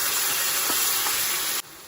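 Curry leaves dropped into hot oil with tomato puree for a crab curry give off a loud, steady, close sizzling hiss that cuts down sharply near the end.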